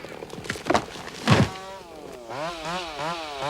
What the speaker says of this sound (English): drowned out by the buzz of the chainsaws